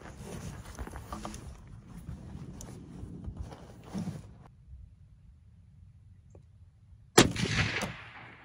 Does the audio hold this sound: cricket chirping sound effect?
no